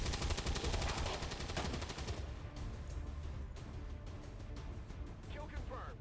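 Rapid bursts of automatic gunfire rattle in XCOM 2 Long War 2 tactical combat, dense at first and then thinning into scattered shots, while a voice talks over the game.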